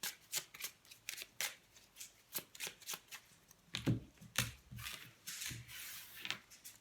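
Oracle cards shuffled by hand in a steady run of crisp riffling bursts, close and clear, with no talk over them.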